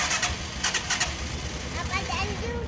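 A vehicle engine cranks on its self-starter and catches, settling into a steady close idle with a low throbbing rumble, while someone talks over it.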